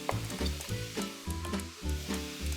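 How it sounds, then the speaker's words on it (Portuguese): Onion caramelizes in a hot pan, a continuous close sizzle with crackling bursts, and rhythmic stirring or scraping thuds repeat through it. "Enquanto minha cebola está caramelizando"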